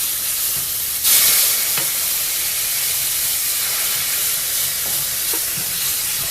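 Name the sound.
stirring flour roux in pan while adding milk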